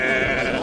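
Sheep bleating at a Moroccan livestock market, a single short, close, wavering bleat standing out above the faint background.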